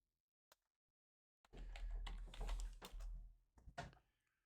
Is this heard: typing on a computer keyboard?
yes